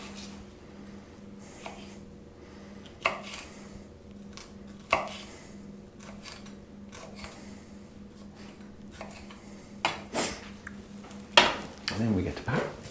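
Knife cutting vegetable pith into strips and small squares on a board, scattered sharp chops and taps with irregular spacing, moderately close, under occasional talking.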